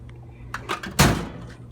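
A tool drawer slides and bumps shut with one close, solid thud, a couple of lighter rattles just before it, in a quiet room.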